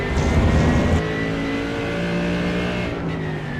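A Mercedes GT3 race car engine at Watkins Glen in a sim racing game drones steadily at high revs, with a brief louder surge at the start and then a sustained, even tone.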